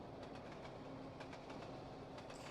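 A train runs on the line in the Trainz Simulator 2 game, a steady dense rumble with rhythmic clickety-clack wheel beats over the rails and a faint tonal hum throughout.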